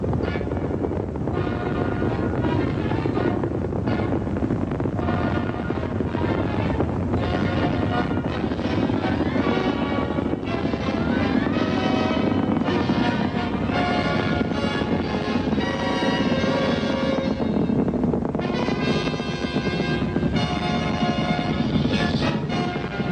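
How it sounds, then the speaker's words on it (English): Apollo 11's Saturn V rocket lifting off from Launch Complex 39: a loud, continuous, broadband roar with rumble and crackle that holds steady throughout without pause. "Liftoff on Apollo 11"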